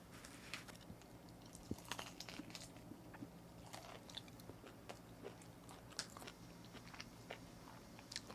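Close, quiet crunching and chewing while eating pizza and shrimp with beer, irregular bites and mouth sounds continuing steadily with no talk.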